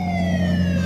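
Wailing police siren, loud and steady, its rising and falling tones sweeping continuously over a low engine-like drone throughout.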